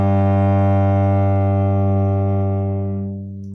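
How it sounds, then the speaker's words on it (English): A cello's open G string is bowed in one long, steady, rich drone, loud and close, holding evenly before fading near the end. "how about if you just take out your instrument and play the open G string?"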